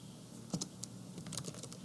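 Quick light keystrokes on a computer keyboard, a short burst of a few clicky taps, close and fairly quiet against a faint steady hum.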